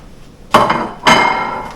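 Two sharp clinking bursts of a small metal fork against a plate while beating a mixture for panko-crumbed Tailor fish bites, each strike ringing briefly and close up with no talk.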